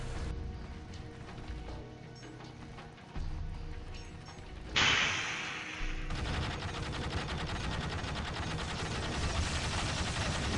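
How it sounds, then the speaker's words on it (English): Heavy battlefield gunfire in Dawn of War, dense rapid bursts and machine-gun rattle that grow louder after a sudden blast, forming a continuous loud barrage. "Getting heavy fire."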